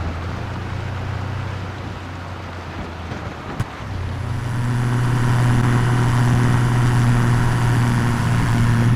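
A tractor engine in Farming Simulator 25 drones at a steady low hum, then grows louder and fuller midway as it pulls along, with no talk over it.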